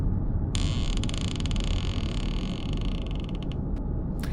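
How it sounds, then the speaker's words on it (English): A wooden plank creaks underfoot in a long, drawn-out groan, close and fairly loud, with a faint rattle of short ticks near its end and a quiet hiss of room tone behind it. "The plank beneath me creaked."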